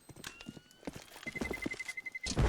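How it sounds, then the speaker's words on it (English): Footsteps in Counter-Strike: Global Offensive during a competitive match, a run of quick clattering steps with metallic game noises layered over a steady tone, moderately loud and busy. "AG can hear footsteps around him"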